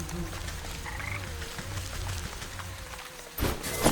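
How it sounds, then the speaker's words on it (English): Frog croaks in the video game Wytchwood, a few low rhythmic calls over a steady ambient game backdrop, with a louder burst of noise near the end. "Frog."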